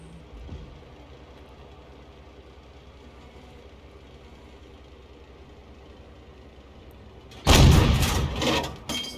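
A tank's main gun fires in a tank combat video game, one loud, booming blast with a rumbling tail after a long stretch of low engine idle.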